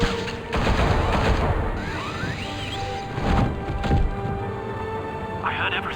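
Rapid bursts of gunfire in a Batman video game, dense and crashing over a steady background din, with booming hits and faint shouting voices mixed in.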